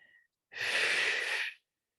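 A single forceful pranayama exhale pushed hard through the nose, lasting about a second, close and loud in otherwise quiet surroundings, with an abrupt start and stop.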